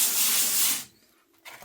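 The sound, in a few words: acid wash fizzing on glass fiber reinforced concrete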